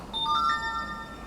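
A phone ringtone plays a bright, short electronic melody of repeating tones, loud and close, with nothing else heard alongside it.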